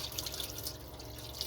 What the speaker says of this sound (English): so this is your 12-volt water turned on. You may hear the pump priming.